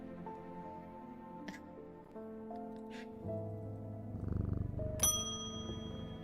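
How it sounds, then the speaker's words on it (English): A cat purring in the video game Strange Antiquities, a low rumbling purr rising over layered musical tones and chimes, followed by a bright bell-like ding. "Was that a cat?"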